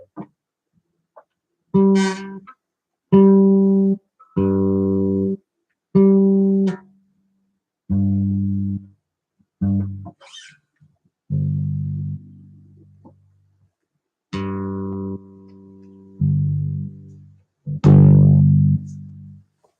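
A single guitar G string, sounding slightly sharp, plucked about ten times in a slow, uneven series while being tuned, each note ringing briefly before the next, close and clear with no talking.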